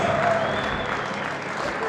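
Crowd at a judo bout in the European Club Championships Champions League, Odivelas 2019, roaring and applauding loudly and steadily after a throw, a dense sustained wash of cheering with voices mixed in.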